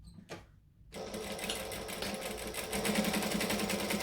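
A sewing machine top-stitches fabric for a hobo bag at a 3 3/4 stitch length, starting after a brief handling noise and then running in a steady, fast, continuous whir that slowly grows louder.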